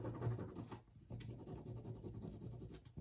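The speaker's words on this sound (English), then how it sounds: "just burnish this with the popsicle stick, which is just the term to rub" A popsicle stick rubbed firmly over fabric to burnish a color transfer, a continuous close scratchy scraping with short back-and-forth strokes and brief pauses.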